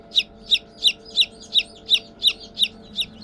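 A newly hatched chick peeps in a steady, evenly spaced series of about nine bright cheeps, close and clear over faint background hum.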